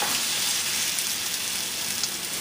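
French toast fries in about two tablespoons of butter in a pan, giving a loud, even sizzle with dense crackling spatter that holds steady from start to finish, with no voices.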